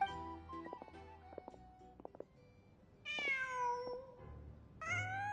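A cat in the video game Genshin Impact meows several times in clear, rising-and-falling calls after a stretch of quieter clicks and game sounds, with no talking.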